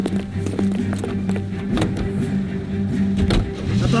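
Car from L.A. Noire starting up and pulling away, a steady engine hum with a low tonal drone and scattered door and handling clicks, fairly loud and close, with brief traces of voice.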